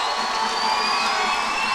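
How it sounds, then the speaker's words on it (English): A crowd at a high school basketball game cheers and shouts steadily in an indoor gym, a loud unbroken roar with high-pitched yells mixed in. "And the crowd goes wild over there."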